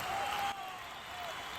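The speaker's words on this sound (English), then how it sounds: "The dull roar of a crowd in the background" A dull, steady crowd roar fills the background at an esports CEO League match between Naughty Bois and Upwardtrends, with a thin tone running above it and a slight dip in level partway through.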